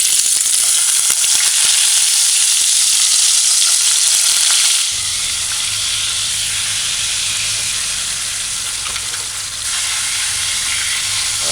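A piece of ginger fries in about an eighth of a cup of hot oil on a stove set to medium-high, giving a loud, crackling sizzle that shifts partway through to a steadier hiss with a low hum underneath; no talk.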